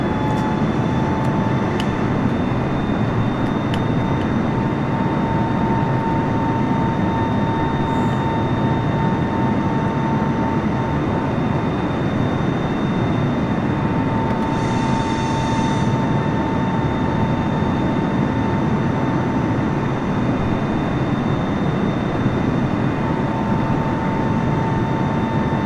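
Boeing 747 jet engines in Microsoft Flight Simulator roar as a loud, steady, continuous drone with a constant whine, unbroken for the whole stretch, with no talking.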